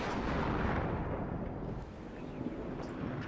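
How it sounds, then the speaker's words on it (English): Artillery barrage in the WARNO wargame, a dense, continuous rumble of overlapping distant blasts and booming impacts filling the whole stretch, loud and sustained without distinct gaps. "the next artillery strike will smash this area"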